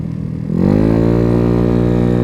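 A 2020 Dongfeng DF50SST 50cc motorcycle engine on the move, starting rough and then settling into a steady, loud, buzzing drone with strong even harmonics that holds through to the end.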